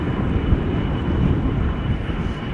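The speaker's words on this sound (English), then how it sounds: "Now Singapore Airlines outbound to Singapore is also on the move." Airplane engines drone steadily as a Singapore Airlines Airbus A350 airliner moves at Schiphol Airport, a continuous low, broadband roar that fills the whole stretch, fairly loud with some wind buffeting and no talk.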